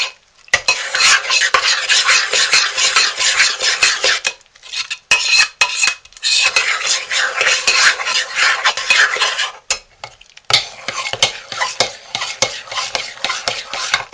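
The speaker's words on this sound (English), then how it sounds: "we'll just keep stirring until the soap has absorbed the essential oils" Homemade goat's milk soap mixture being stirred steadily in a pot, a continuous scraping swish in three long bursts separated by brief pauses, close and loud.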